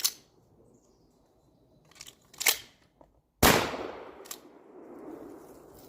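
A firearm loaded with buckshot fires at a target on a shooting range: a few sharp, loud shots spaced seconds apart, the last one ringing out with a longer echo.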